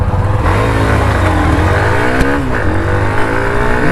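A 2024 Hero Xtreme 125R motorcycle with IBS brakes accelerating in third gear with the throttle held open, a loud continuous buzzing engine note rising and dipping in pitch, close and sustained for four seconds with no talk.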